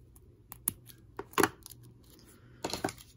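Scissors snip a fabric craft strip in a few short, crisp bursts, close up and spaced apart with quiet pauses between cuts, no talking.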